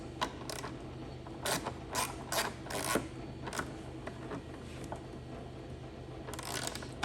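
A ratchet tightens a bolt on an Indian Motorcycle tour pack strut kit near plastic parts, giving a run of short, bright clicking bursts in uneven spurts, close and fairly loud, with no talk.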